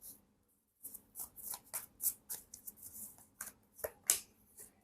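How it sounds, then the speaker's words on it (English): Tarot cards being reshuffled by hand, a quick run of crisp papery riffles and flicks in uneven bursts after a brief silence, close and fairly quiet with no talking. "I have to reshuffle."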